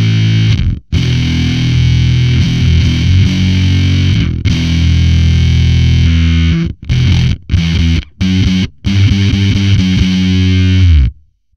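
Electric bass played through a Lee the Forest Faraday fuzz pedal, thick and heavily distorted, with long sustained notes followed by a series of choppy, abruptly stopped chugs, loud and close.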